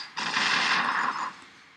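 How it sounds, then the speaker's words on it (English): A mine explosion attack in the game Battle Nations bursts as one loud, close, sustained noisy blast that lasts about a second before cutting off. "So I'll show you this mine explosion attack, what it does against the"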